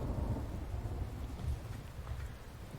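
Steady rain with rumbling thunder in the survival video game The Infected, a dense continuous wash of rainfall with low rolling booms, no voices.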